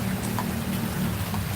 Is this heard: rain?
yes